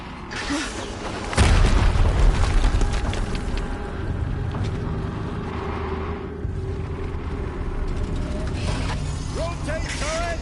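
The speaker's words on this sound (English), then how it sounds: "Another explosion." A deep boom from an explosion in the video game Horizon Zero Dawn, loud and rumbling, followed by a sustained low roar and scattered mechanical game sounds.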